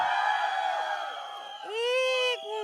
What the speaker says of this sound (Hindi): लड़कों एक बार चिल्ला के बता दो आप लोग भी एक बार